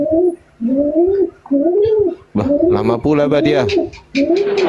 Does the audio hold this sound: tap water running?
no